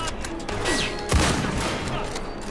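Gunfire in the Indiana Jones and the Great Circle video game, a rapid burst of shots with a heavy blast near the middle, fairly loud and dense, with a faint voice underneath.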